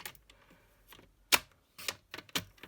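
A paper trimmer slices through card while someone makes an origami hexagonal desk tidy. A few sharp, close clicks and brisk cutting bursts are spaced out against quiet.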